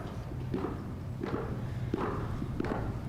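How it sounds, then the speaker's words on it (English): Footsteps of the vice president-elect descend the stairs from the Capitol crypt at the inauguration, four even, moderately close thuds at a steady walking pace over a low ambient murmur. "We can hear the footsteps of VP-elect Harris coming down the stairs from the crypt."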